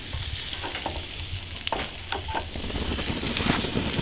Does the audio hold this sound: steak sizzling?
yes